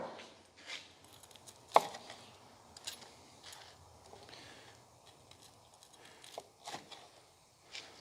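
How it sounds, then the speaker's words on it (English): Knife chopping the crusts off stacked slices of bread, a handful of soft, irregular thuds against a board with one sharper knock, close and quiet. "Chop off the crust into perfect squares"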